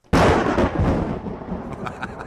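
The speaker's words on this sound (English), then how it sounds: "A clap of thunder." A sudden, loud clap of thunder bursts out and then rumbles on, slowly fading over a couple of seconds.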